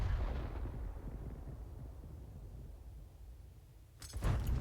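A Crusader 5.5-inch self-propelled gun in World of Tanks fires at bushes, a deep booming blast that rolls off into a long low rumble, with a second sharp crack arriving near the end.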